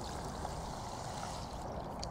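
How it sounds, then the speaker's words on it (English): Water flooding fishing pellets in a tub to soak them, a faint, steady rush and gurgle of pouring water with no voices. "put them in to your tub like so, and just flood them in water"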